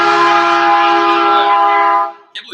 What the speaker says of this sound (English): Whoa, that is a loud train